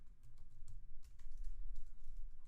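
Keys tapped on a computer keyboard in quick irregular bursts, close and fairly quiet, with a low background hum and no talking.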